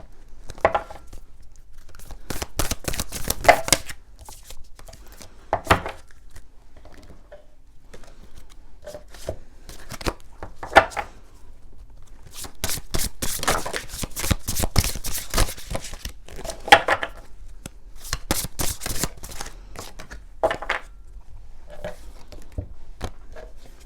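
A deck of oracle cards is shuffled by hand up close, with repeated crisp riffling and slapping bursts, some quick and clustered, others separated by short pauses, with no talking.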